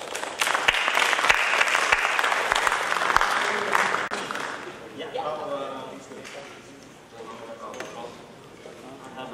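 An audience at a domain industry conference bursts into applause welcoming a speaker, dense steady clapping from a sizable crowd that slowly thins and fades over several seconds.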